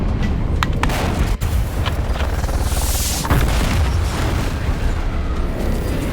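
Unguided missiles exploding in the video game Dune: Awakening, heard as a dense, loud barrage of booms and blasts over a constant rumbling din, with a sharp crack partway through.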